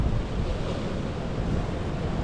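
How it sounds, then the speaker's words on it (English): Waves and swash wash against sea defences along the shore in a loud, continuous churning roar, with wind buffeting the microphone and no voices. "Sea defences are a lot of swash and waves, sort of confusion."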